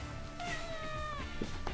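A pet cat meows for her tuna dinner in a home kitchen, a couple of drawn-out, rising-and-falling meows heard fairly close over a quiet, steady background hum.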